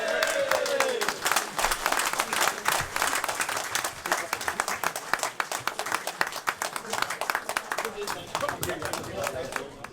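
Audience applause greeting former player Mickey Burns on his return to Blackpool Football Club at a legends night, dense steady clapping filling the room throughout, with a brief voice at the very start.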